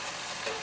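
Tofu flipped in a hot pan over high heat for spicy Korean dubu-jorim, frying with a steady close sizzle and a brief stirring scrape, no talking.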